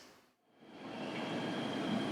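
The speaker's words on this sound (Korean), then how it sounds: "부전 사이를 달리는 ITX 마음열차입니다" An ITX-Maeum passenger train runs along the coastal Donghae Line, a steady rumbling roar of wheels and carriages that swells from near silence into a loud, sustained pass.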